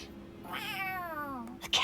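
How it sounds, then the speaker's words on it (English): In the video game Tales of Arise, a cat gives one drawn-out meow that rises and then falls, heard clearly over faint background game sound. "A cat? Where'd it come?"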